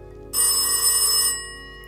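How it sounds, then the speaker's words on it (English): In The Darkside Detective video game, a phone rings once, a bright electronic trill lasting about a second, clear and close, then fading into quiet. "There's a phone ringing"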